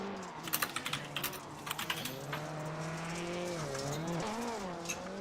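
A rallycross race car at a NASA Rallycross event in Charlotte runs through tight corners by the sausage curbs. Its engine drones steadily and shifts pitch as it rises and falls, with a burst of quick gravel-like clatter early on.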